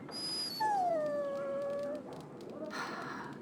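A dog in Dragon Age: Origins lets out a drawn-out, falling whimper close by, a high whine that slides down and holds before fading into quiet game ambience.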